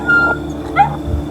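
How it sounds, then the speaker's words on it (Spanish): A dog whimpers and yips in a short plaintive cry, with a brief higher yelp midway, set against a low steady hum in a dark, quiet night-time narrated story scene. "Pensé que había sido un perro."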